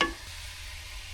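Coconut oil is stirred in a cooking pot, starting with a brief scrape followed by a soft, steady sizzle and faint hiss that continues quietly and evenly, with no talk.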